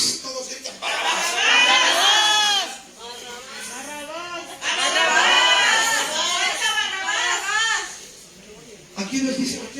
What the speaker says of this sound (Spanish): Todos gritan Barrabás.